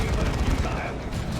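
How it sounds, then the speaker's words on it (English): The Terminators' assault cannon in Dawn of War 2 fires a dense, sustained stream of rapid shots. Loud, unbroken battle noise fills the whole stretch. "Assault cannon in for the Terminators."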